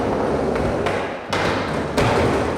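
A skateboard shoots out from under a rider landing a blunt kickflip while leaning forward, giving two loud, sharp board impacts about a second apart over a steady rolling rumble.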